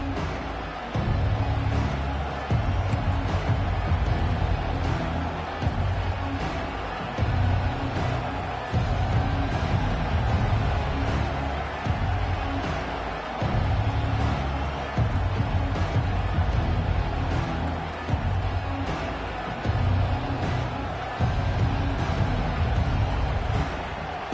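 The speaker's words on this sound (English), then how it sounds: "This crowd bringing the energy and noise early." Stadium crowd noise in a Madden football video game, a constant loud roar of spectators sustained throughout with a low rumbling pulse underneath and no clear breaks.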